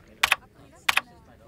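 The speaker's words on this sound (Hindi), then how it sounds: "ये कंप्यूटर तो ऐसे चला रहा है जैसे टाइपराइटर चलाते हैं" Two hard, clattering bursts of keystrokes on a computer keyboard, each made of a few quick heavy clicks, with a short pause between them in an otherwise quiet room.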